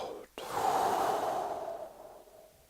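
A single slow, deep breath is drawn in sharply and then released in a long, soft, fading exhale, close and quiet.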